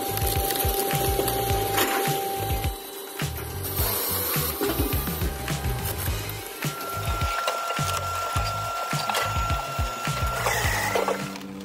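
Homemade firewood processing machine splitting large logs, heard as a continuous loud mechanical grind and whine with repeated woody cracks and thumps.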